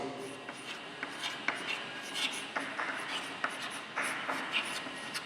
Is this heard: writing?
yes